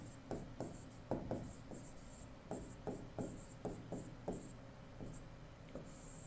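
Chalk or marker writing steps on a board in a physics class, a series of short scratchy strokes in quick irregular bursts, close and moderately loud over a steady room hiss.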